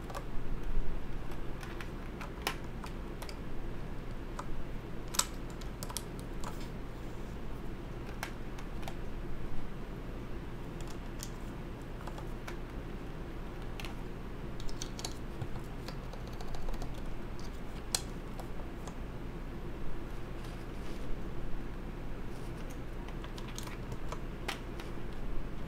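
Steady typing on a custom CA66 mechanical keyboard fitted with Zealio switches, a quick run of close, crisp clacks and ticks that goes on without a break over a faint room hum, with no talking.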